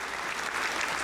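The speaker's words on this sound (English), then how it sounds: "I gotta give a clap for that." A short burst of dense applause, many hands clapping at once, steady and loud throughout.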